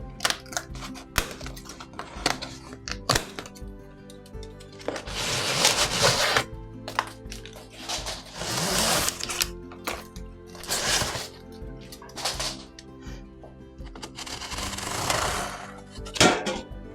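A Stampin' Up artisan box being opened, with crinkling, rustling and handling noises of packaging that come in bursts, close and fairly loud, with no talking.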